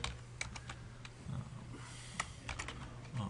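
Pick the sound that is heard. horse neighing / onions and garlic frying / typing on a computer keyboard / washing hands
typing on a computer keyboard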